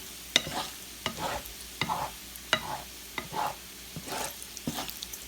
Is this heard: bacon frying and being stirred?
yes